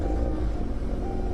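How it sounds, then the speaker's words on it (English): A car in the Roblox game Greenville starts up and its exhaust drones in a steady, loud, low rumble throughout, with no voices. "So now I'm in the car, obviously I can give you guys a little startup."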